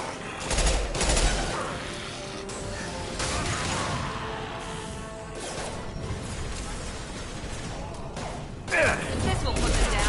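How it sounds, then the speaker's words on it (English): Impact-shot gunfire in the video game Mass Effect 2: bursts of heavy shots and clattering weapon mechanisms, with a sharp loud blast near the end, all over a busy game soundscape. "Firing an impact shot!"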